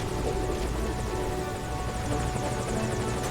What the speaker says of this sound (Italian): Ma sto elicottero resta lì.